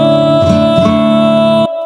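A sung line from a cover, processed through a vocal preset, rings out loud and sustained with rich harmonic tone, then cuts off abruptly near the end.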